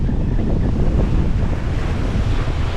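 Waves surge around a small sailing boat at sea, a loud continuous wash and rush heavily buffeted by wind on the microphone.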